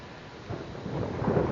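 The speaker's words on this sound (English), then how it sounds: "we have lightning, we have thunder. That was off in the distance, several miles." Distant thunder rumbles outdoors in a cemetery during a storm, a low, swelling roll that grows louder over a second or so, heard alone without talk.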